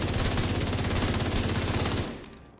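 Police M4 assault rifle in The Division 2 firing a loud, sustained automatic burst of rapid, evenly spaced shots for about two seconds, then cutting off into a short fading tail.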